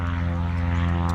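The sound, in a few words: plane taking off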